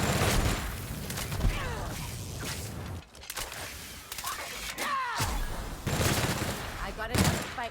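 Firefight in the video game The Outer Worlds, with bursts of rapid gunfire, sharp impacts and crashes mixed with shouting voices, the shots coming in clusters with brief lulls between them.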